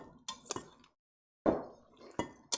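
Green beans being stirred through sauce in a pot during Thanksgiving dinner cooking, with a few sharp clinks and scrapes of a utensil against the pot separated by a brief silence, heard up close.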